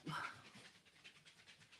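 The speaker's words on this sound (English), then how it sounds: "if y'all hear my dogs" Dogs at home pant softly and quickly, the sound faint and close, with a brief higher whimper near the start.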